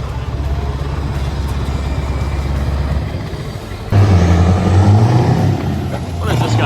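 A tow truck engine in Finland revs loudly and steadily, then jumps in pitch as gears shift partway through, with a raised voice reacting over the drone.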